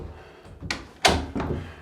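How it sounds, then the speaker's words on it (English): A rehung interior door, previously rubbing at the top, is swung shut with its hinge loops resting together, giving a few close, solid thuds and knocks in quick succession with no talk. "And you can actually just shut the door."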